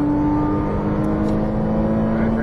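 Ferrari 458 Italia, Porsche 911 Turbo S or Cayman sports car engine pulling hard on a Las Vegas race track, a steady loud sustained drone with a rising tonal whine, close and continuous with no talk.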